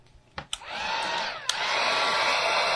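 A hair dryer clicks on after a couple of handling knocks and blows steadily, a loud close whooshing roar drying glue on handmade cards, with a brief click midway.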